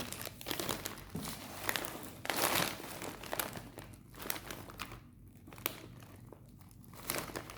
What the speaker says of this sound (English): It's a really big pack, so let's open.